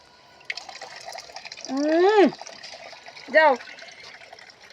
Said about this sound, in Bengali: চলো তো মুখ ধুয়ে দিই দুজনে।